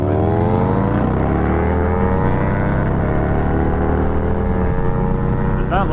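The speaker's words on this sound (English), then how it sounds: "Is that Lotus really trying to race an R3?" Lotus sports car racing an R3 motorcycle, loud engines roaring and climbing in pitch through sustained acceleration, dense rising whine close by for several seconds.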